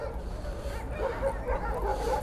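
A hunting laika, a West Siberian laika at a republican hunting dog show in Yakutia, gives soft whimpers and yips at moderate distance amid crowd murmur and background talk.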